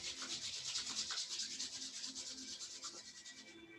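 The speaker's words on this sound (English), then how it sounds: "Rub your hands together." Two hands rub briskly together in a quiet room, a soft, close, rhythmic swishing of skin on skin repeating steadily for a few seconds with no talk.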